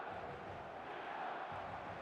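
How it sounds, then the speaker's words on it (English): Steady stadium crowd roar in the eFootball video game, a continuous broadband din of cheering fans at moderate level with no voices picked out. "the crowd are reacting to that now"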